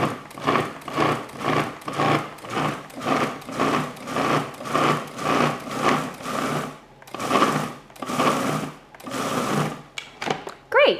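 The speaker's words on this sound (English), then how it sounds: "you just want to use the pulse button on your food processor" Food processor pulsing butter, flour and ice water into galette dough: a run of short, regular motor bursts about once a second, each a loud whirring chop, with brief gaps between.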